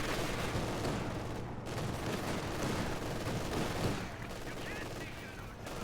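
Machine gun fire in a competitive real-time strategy match as a T70 takes shots, rapid bursts of gunfire crackling in a dense, busy battle mix with ongoing noise throughout.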